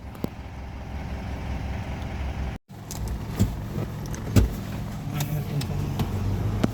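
A Mitsubishi Montero Sport with a P2413 EGR system fault drives on a road test, its engine a steady low rumble inside the cabin, broken by a brief dropout and a few clicks and bumps.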